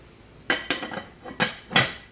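A pot gets covered with its lid in a home kitchen while cooking broccoli rabe, giving a series of sharp metallic clanks and rattles, about five distinct knocks close up with brief ringing between them.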